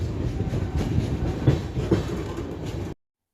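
Mumbai-Coimbatore Express (11013) rolling along near Coimbatore: a steady low rumble of the carriage with rhythmic clickety-clack wheel knocks, continuous and fairly close, from inside the moving train.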